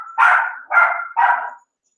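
Puppy barking close and loud, three sharp, evenly spaced barks in quick succession, then silence.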